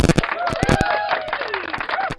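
A crowd cheers and claps in a short burst, with whistles and shouts rising over rapid, uneven clapping.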